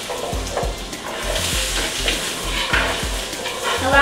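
Garlic sizzles in butter in a pan over medium-low heat, a soft continuous frying hiss with rhythmic scraping knocks as it is tossed, close and steady with no talk.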